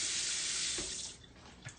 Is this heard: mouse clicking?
no